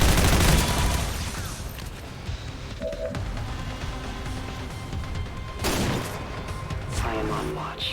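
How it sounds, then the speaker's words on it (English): Gunfire rattles through combat in XCOM 2, with heavy bursts at the start and again later, broken by sharp impacts and rumbling between volleys, loud and close, with a voice briefly heard over it. "Keep firing, assholes!"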